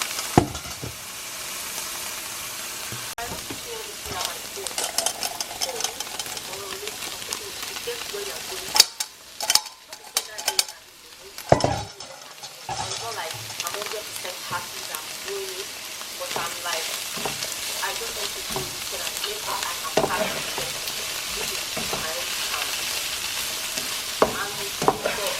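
Onions fry in a pan, giving a soft, steady sizzle with frequent clinks and scrapes of a utensil stirring. A brief quieter gap comes partway through before the sizzle and stirring carry on.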